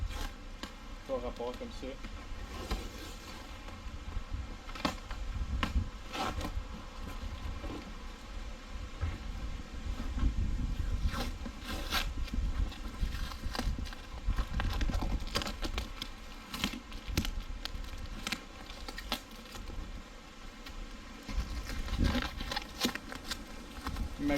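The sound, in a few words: packing tape being peeled off a UPS box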